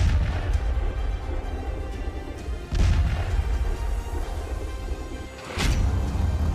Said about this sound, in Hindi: सीरिया, लेबनान, गाजा में धमाके ही धमाके हो रहे हैं।